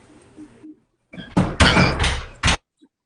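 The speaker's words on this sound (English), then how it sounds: "Close the door." A door being closed in a room: a couple of shuffling bumps, then a heavy thud and a final sharp knock, fairly close and loud, with no talk over it.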